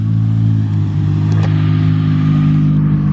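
A car on semi-slick tyres holds a loud, steady engine drone, close and alone, with no tyre squeal.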